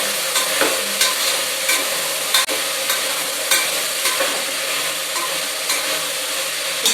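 Sliced potatoes frying and being stirred in a pan for Indian rajma masala, giving a steady bright sizzle with regular spoon scrapes and knocks repeating about every half second, close and alone with no talking.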